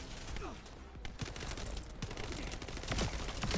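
Rapid bursts of Thunder Cage gunfire from a video game crackle continuously across the stretch, dense and fairly loud, with faint voice sounds mixed underneath.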